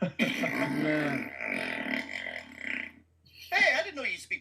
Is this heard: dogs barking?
no